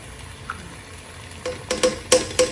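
Tomato paste frying with ginger and garlic in a pot as it is stirred: a low sizzle with a handful of sharp spoon scrapes and clinks that grow louder and more frequent toward the end, with no talking.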